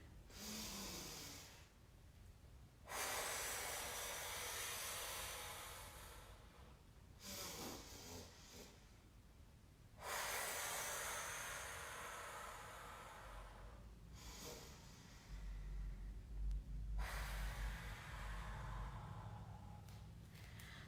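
Deep breathing during a yoga exercise comes in long, slow, hissing inhales and exhales, about five breaths close to the microphone with brief quiet pauses between them and no speech.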